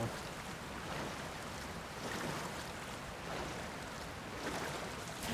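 Steady rushing water from a waterfall in the video game Zelda: Tears of the Kingdom, a continuous broad wash of noise with slow swells, no voices.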